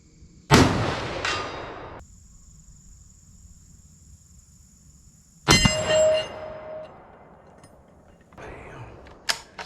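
Two sharp, loud gunshots from a .270 hunting rifle, several seconds apart, each cracking out and ringing off into a long fading tail outdoors.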